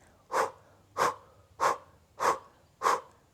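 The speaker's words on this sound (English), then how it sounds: "we do a breath through the mouth, hoo, hoo, hoo, hoo, with a sound" Five forceful, breathy exhalations pushed out through the mouth at an even pace about two-thirds of a second apart, close and clear, each a short puff with a soft voiced edge.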